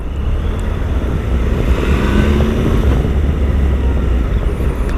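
Motorcycle engine riding through town, a steady loud drone that swells slightly as it accelerates, close and continuous with no talk.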